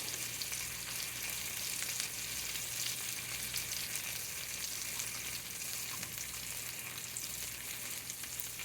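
Bone-in meat sizzles and fries steadily in a pan, a constant close crackle with faint scrapes as a small salad fork turns it.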